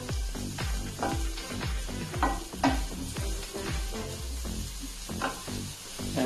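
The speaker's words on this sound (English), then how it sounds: "The leaves need to get fried very nicely, otherwise they will turn out to be bitter." Fenugreek (methi) leaves fry and sizzle steadily in a hot pan, with repeated stirring scrapes and soft clunks of a spoon against the pan throughout, close and fairly loud, no talking.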